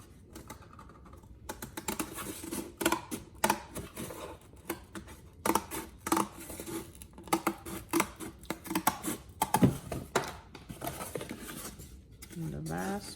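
Scissors snipping through a paper craft piece for a dog house centerpiece, a run of short crisp clicks and cuts in an irregular rhythm, close and fairly quiet, with a voice speaking at moments.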